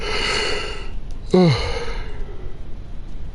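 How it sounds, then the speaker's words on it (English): A single big, breathy yawn rises and falls in pitch near the microphone, set between quieter stretches of background noise. "Wow, that was a big yawn."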